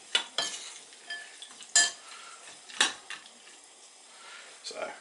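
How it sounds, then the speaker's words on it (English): A spoon stirs a thick, goopy bird fat snack mix in a bowl, with irregular clinks and scrapes against the bowl's sides spread across the moment, all fairly close and moderately quiet. "Give that a stir again"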